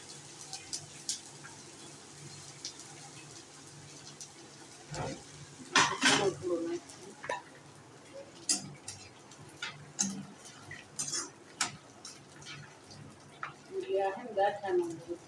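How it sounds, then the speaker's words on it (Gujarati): Edible gum (gond) frying in ghee is stirred with a spoon, giving scattered scrapes and taps against the pan under soft sizzling, with a person talking over it. "હલાવતું રહેવાનું ગુંદને"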